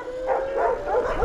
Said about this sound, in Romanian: Hai că m-am oprit lângă câinele ăsta.